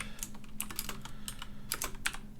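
Typing C# code on a computer keyboard, a brisk run of crisp key clicks in uneven bursts, close and clear with nobody talking.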